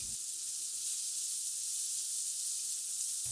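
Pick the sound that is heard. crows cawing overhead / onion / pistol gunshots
onion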